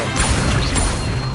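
A summoning spell cast in the game Hogwarts Legacy gives a dense, continuous magical whoosh with crashing impacts over a steady low rumble, loud throughout.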